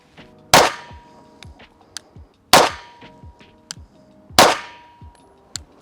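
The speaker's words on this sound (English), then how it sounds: "So we'll shoot 2 3-shot groups from 7 yards" Three sharp, loud shots from a Sig P365XL pistol fired at 7 yards, evenly spaced about two seconds apart. Each crack rings with a metallic tail, followed by fainter clinks and small noises between shots.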